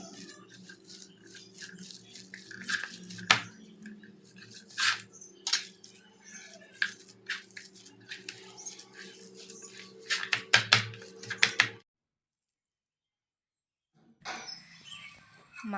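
Gram flour kofta mixture with sugar, salt, chilli powder, turmeric, cumin, green chillies and coriander leaves being mixed by hand, giving soft wet squishing and clicking against a bowl over a steady low hum, then a brief silence before the noise returns.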